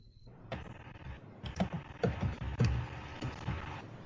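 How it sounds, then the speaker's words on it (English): Typing on a computer keyboard, close and clear, with irregular clusters of key clicks and a few heavier taps, with no voices. "No, that's me typing."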